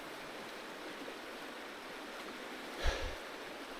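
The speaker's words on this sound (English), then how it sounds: "My first expression is that this river is a little bit too fast" A fast-flowing river in the Jämtland wilderness gives a steady, broadband rush of water close by, continuous and even, with a brief louder splash or thump near the end.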